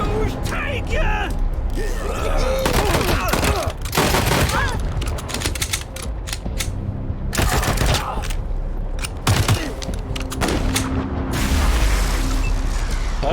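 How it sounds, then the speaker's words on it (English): Gunfire crackles in bursts through a firefight after an ambush in the video game Wasteland 3, loud repeated volleys and booms with brief lulls, mixed with voices talking. "So we're straight into a firefight after the ambush"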